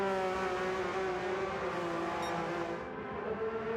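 A Porsche Cup race car on a circuit, going through a set of S-bends, its engine a loud, steady high-revving drone heard close to the listener, with no talk.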